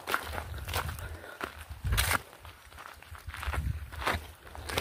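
Footsteps crunch along an outdoor trail in a steady walking rhythm, close and fairly loud, with several heavier steps standing out above a low rumble.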